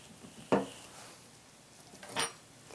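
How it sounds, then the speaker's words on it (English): A metal spoon scoops the soft flesh out of a halved, pitted avocado while guacamole is being made, giving two short scraping strokes about a second and a half apart against a quiet kitchen background. "to get out all of the good avocado, you just scoop around with your spoon"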